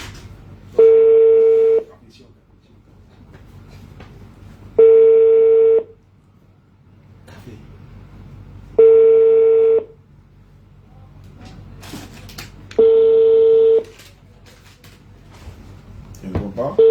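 A telephone call going unanswered: four evenly spaced ringback tones, each about a second long and separated by roughly three seconds of quiet, clear and fairly loud, with faint background sounds between rings.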